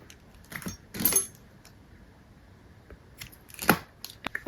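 Scissors snip through crochet yarn while fastening off a tie-front top, giving a couple of short, close metallic cuts with soft handling rustle between them.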